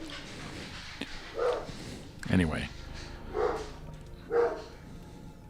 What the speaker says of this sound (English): the dog's barking